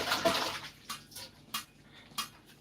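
Onions rinsed under running water in a kitchen, with an opening gush of flow followed by several brief, distinct splashes and drips at near range, no talking.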